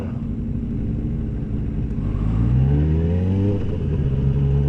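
Motorcycle engine revving up close, the pitch climbing steadily through a rising rev and then holding at a higher drone, alone without talk.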